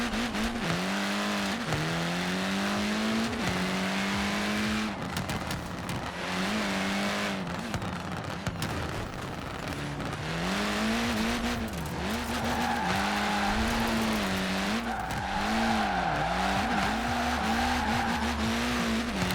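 Ford Racing Puma car in the Forza Horizon 4 racing game, driven hard on pavement: a steady loud engine drone rises and falls through gear changes, with tire squeal and skidding through corners across the whole stretch.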